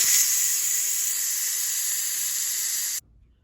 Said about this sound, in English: We'll just do a quick release.